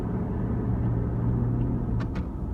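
A car driving along, its low engine rumble and road noise steady and close, with a couple of faint brief clicks near the end and no talk.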